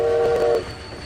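A train in the video game Grit gives a loud sustained horn-like tone for about half a second, then fades into a steady low rumble and a thin high whine.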